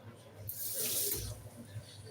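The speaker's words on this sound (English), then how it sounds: "So I just added small water again" A short, soft splash of water being poured into a pot of egusi soup, faint and close, rising and fading within about a second amid quiet kitchen noise.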